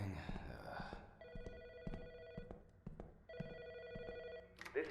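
Ringing telephone in the Autopsy Simulator video game: two long bursts of an electronic double-tone bell ring clearly at a steady pulse, with footsteps and thuds around them and a sharp noise at the end.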